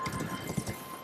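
Horse hooves clip-clopping in the video game Elden Ring, a short run of soft, steady hoof beats at moderate distance over a muffled background.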